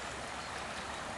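Mariposa Creek in California, where the gold rush began, flowing steadily as a continuous broadband rush of running water, close and even throughout with no voices.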